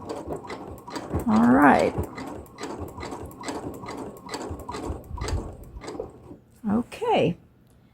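A sewing machine back stitching the end of a fabric tube for a jelly roll rug, giving a steady, even run of clicks, with a person talking briefly over it.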